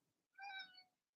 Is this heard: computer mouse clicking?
no